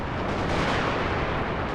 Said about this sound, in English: I think the artillery they surely are like battery dueling right now